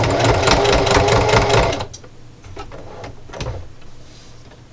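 A sewing machine stitches a grippy jar opener, a loud steady whirring run that stops abruptly partway through, followed by quieter handling clicks and a brief spoken word.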